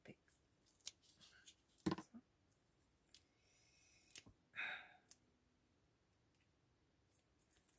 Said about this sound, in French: Ça commence à être de plus en plus dur à découper avec mon ciseau.